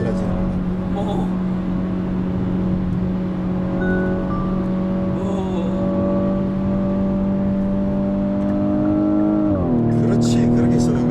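Hyundai Veloster 1.6 turbo engine revving while driving, a loud sustained harmonic drone that climbs steadily in pitch through the gears, then drops and rises again near the end, with people talking over it.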